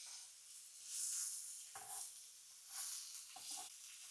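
Fish sizzling softly as it fries in a pan, with a steady frying hiss that swells and fades, plus a few faint scraping stirs. Quiet and close.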